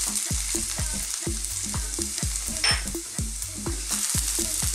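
Garlic sizzles in hot cooking oil in a frying pan, a loud continuous fry heard close with rhythmic stirring scrapes throughout and no speech.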